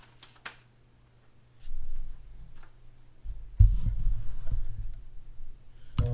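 An embroidery machine stitching a gnome border design, giving a low rhythmic mechanical thrum that starts after a few faint ticks and grows louder and steadier, with a sharp clack at the end.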